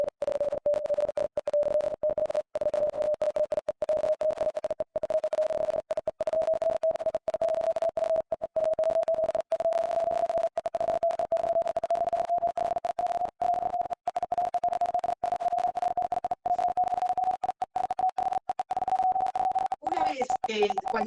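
A continuous pure test tone for a hearing check, played online during a class on waves, gliding slowly and steadily upward in pitch for about twenty seconds, with choppy brief dropouts throughout.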